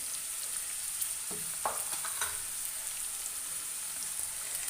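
Chopped large onion dropped into a hot pan sizzles in a steady, close frying hiss, with a few brief stirring scrapes and no talk.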